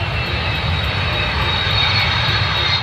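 Airplane engines roar during takeoff, a loud, steady, dense drone with no pauses or breaks, heard close and alone without voices.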